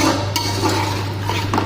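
Spices and dried lemon being stirred in a pot for kabsa rice, a few soft scrapes and light clinks of a spoon against metal over a steady low hum and faint sizzle.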